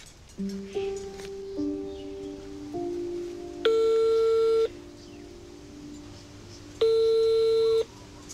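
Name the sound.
telephone call to the mayor, ringing unanswered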